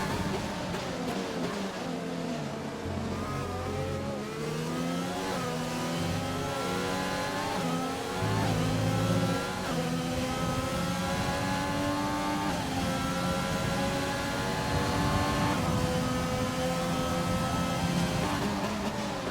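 Formula One race cars from a racing video game, several engines revving and accelerating continuously with rising and falling pitch as they change gears, loud and steady throughout.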